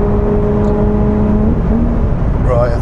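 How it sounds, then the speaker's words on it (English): A supercharged mid-engine car on the motorway holds a steady, loud engine drone with a sharp throttle blip near the end, rising between gear changes. No one speaks. "I just blipped the throttle for you between the gear change, just so you can hear it."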